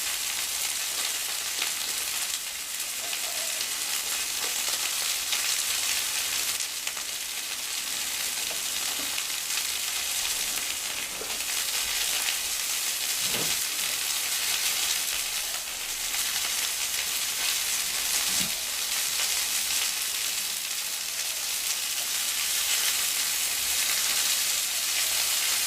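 Kangaroo steak sizzles steadily in a pan over an open flame, a constant close hiss of frying with a few faint clicks and knocks underneath.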